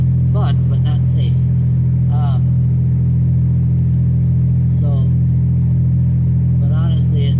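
A car engine holds a loud, steady low drone from inside the moving vehicle, with a person talking in short bursts over it.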